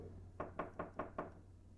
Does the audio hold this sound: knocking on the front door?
yes